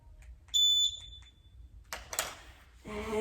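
A workout timer alarm sounds a short, piercing high beep, followed by quieter clattering and rustling noises in a home exercise session.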